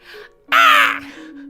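A crow in the video game Wind and Bird gives a single loud, harsh caw lasting about half a second, with softer bird calls just before and after.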